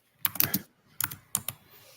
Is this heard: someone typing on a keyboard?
yes